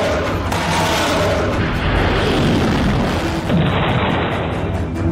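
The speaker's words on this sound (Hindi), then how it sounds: "जो विस्फोट दिख रहा है उसकी आवाज रूस के राष्ट्रपति पुतिन के आवाज क्रेमलिन के दीवारों को कपा गई है।" Loud, continuous rumbling roar with low booming bursts, like a distant explosion and its rolling aftermath, heavy and unbroken throughout, from an explosion on the Ukraine–Russia border.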